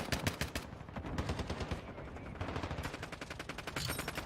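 A light machine gun firing in Warzone 2: rapid, loud sustained bursts of automatic fire with a brief gap in the middle, clear and close with no talk over it.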